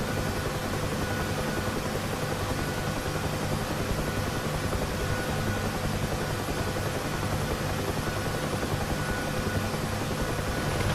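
UH-1H Huey helicopter descending to a gentle vertical landing in the DCS flight simulator, its rotor and turbine drone steady and loud throughout, a dense unbroken roar with a faint whine on top.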